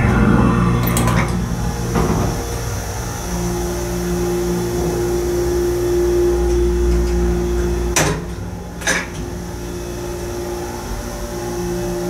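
Steady hum and drone of the motor on a vintage rotary piston pump hydraulic elevator, running continuously with a tonal whine, while a couple of sharp clunks or clicks sound partway through.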